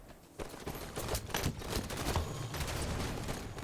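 Video game gunfire during a Halo Coliseum capture-the-flag match, a rapid string of sharp shots and bursts trading back and forth over a few seconds, moderately loud.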